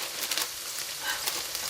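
Onions frying with a bay leaf in a non-stick pot, giving a soft, even hiss of sizzling throughout, fairly quiet and with no speech.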